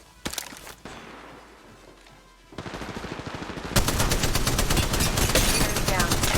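Rapid gunfire from a mobile shooter game on a POCO X3 Pro, starting with scattered shots and building into loud, dense automatic bursts that grow more intense toward the end.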